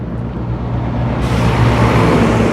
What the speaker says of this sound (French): Décidément plein de camions